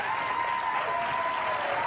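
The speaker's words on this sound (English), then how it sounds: "they cheered for his pet pig joke" A studio audience on a live daytime talk show breaks into applause and cheering, a dense, steady wash of clapping that holds evenly throughout.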